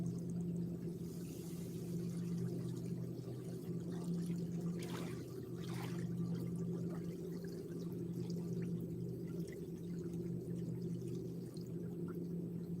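River water at a fishing bank sloshes and trickles steadily after a splash, a continuous soft watery wash under a low hum, with a couple of brief brighter splashes partway through and no talk.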